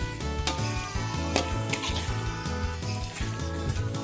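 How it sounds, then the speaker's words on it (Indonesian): A spoon scrapes and clinks in a pan as rice-field snails are stirred with spices, a busy run of metallic taps and knocks over a steady bed of other sound. "seperti ini kita aduk aduk rata agar semua bumbunya meresap ke daging keongnya"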